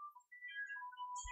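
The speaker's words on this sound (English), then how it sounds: "Oh, there goes the phone." A phone rings nearby with a quiet electronic melodic ringtone, a few tones in a short tune and no voices over it.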